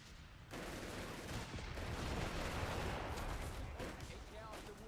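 MG42 machine gun fire in a Company of Heroes 3 match, a dense and continuous loud burst of gunfire and battle noise lasting throughout, with a commentator's voice running over it.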